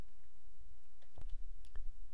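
A computer mouse clicks on a software splash screen: a few soft, separate clicks over a quiet room hum.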